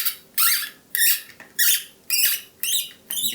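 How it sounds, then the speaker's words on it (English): Plastic part of a Prusa MK4S 3D printer upgrade being pressed into place, giving a series of six sharp, close squeaks in a steady rhythm with short pauses between, with no talking. "You can tell it's going into plastic by the squeaking"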